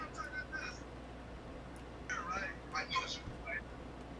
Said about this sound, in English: that's my wife's cell phone, actually